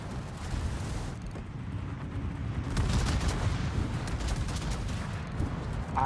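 Anti-air guns firing at bombers in the World of Warships naval video game, a continuous loud barrage of rapid flak bursts and booming fire with dense rumbling, steady throughout.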